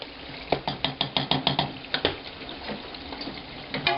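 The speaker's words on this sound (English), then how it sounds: "Just give it a little stir." A spoon stirring chutney thickened with jam in a pot at the back of a wood stove, rhythmic scraping and clinking strokes repeating steadily over a soft cooking hiss.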